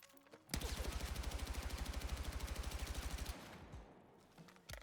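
Sustained rapid automatic fire from a gun in the video game Battlefield 6, a steady rhythmic burst of roughly three seconds, loud and close, followed by quieter trailing sounds.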